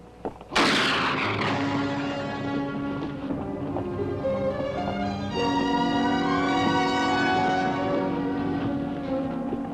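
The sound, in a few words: gunshots fired at a rider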